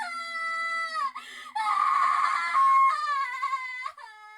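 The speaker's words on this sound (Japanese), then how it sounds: "There was somebody screaming outside my window," Someone screaming outside a window in the horror video game Corpse Party, a series of shrill, wailing cries broken by short pauses, loud and close, with no talk.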